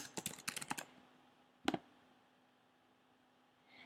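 Someone types a search on a computer keyboard: a quick run of close, crisp key clicks, then one more tap and a quiet pause.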